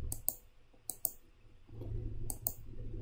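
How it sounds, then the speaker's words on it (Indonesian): A handful of sharp, close mouse clicks come singly and in pairs while objects are selected on a computer with shift held down, over a low hum. "menekan tombol shift pada keyboard, kemudian mengeklik pada objek yang akan dipilih"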